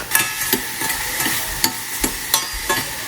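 Onions frying in a pan for spicy masala pasta, stirred with a utensil that scrapes and taps in a steady rhythm of about two strokes per second over a soft sizzle, close and without voices.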